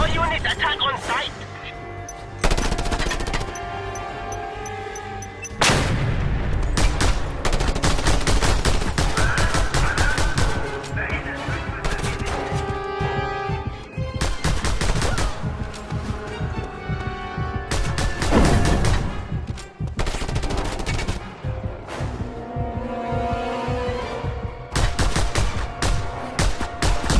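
Heavy gunfire from enemy units in the Just Cause 2 video game, with dense bursts of automatic shots and booming blasts layered over continuous game music and effects, loud and sustained throughout.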